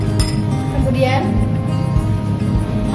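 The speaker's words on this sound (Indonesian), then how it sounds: "masukkan garam, lalu aduklah" Salt is tipped into a glass of water and stirred, giving a few light glassy clinks and taps against the rim, mixed with children's chatter and background talk.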